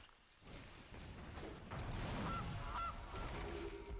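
A goose honk from the Gilded Goose card in the Magic: The Gathering video game, two short honks sounding mid-clip over a steady layer of game music and effects.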